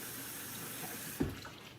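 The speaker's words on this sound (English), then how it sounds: "I'm going to add cold water to this, a half a cup" A steady stream of cold water pours into a bowl of flour mixture for flaky pie crust, holding even for over a second and ending in a brief splash, with no one talking.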